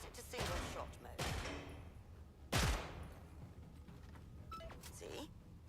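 Gunfire from a weapon in a shooting-range training game, several bursts of shots fired at targets, the loudest burst near the middle, with game dialogue and background sound continuing around them.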